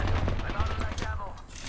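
Bursts of automatic gunfire in a team shooter video game, dense and loud, with players talking over the shots.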